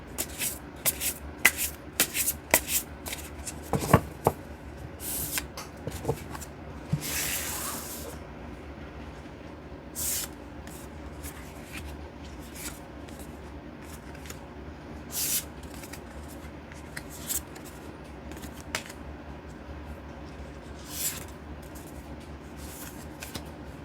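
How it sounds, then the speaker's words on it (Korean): Tarot cards being shuffled and picked from the deck, a long run of crisp riffling and sliding card sounds in quick irregular bursts, with one longer hissing spread of cards early on, close and quiet with no talk. "총 5장의 카드를 선택할게요"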